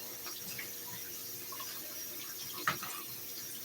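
Cold tap water runs steadily into a kitchen sink over shrimp, a soft, even flow with one brief splash near the end.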